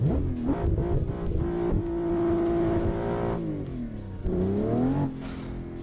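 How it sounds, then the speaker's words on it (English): A Toyota Supra MK5 engine revs in a driving simulator game, climbing and dropping through the gears with rising pitch sweeps, a loud steady drone between shifts. "This is the car I'm driving, a Supra MK5"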